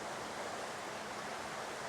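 Steady, even wash of flowing water from a canal running through a forest, close and continuous with a soft broadband hiss and no voices.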